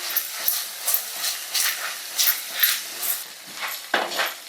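Ginger garlic paste frying in oil in a pan on a gas stove, a steady sizzling hiss with rhythmic bursts of spatter as it is stirred, close and unbroken by talk.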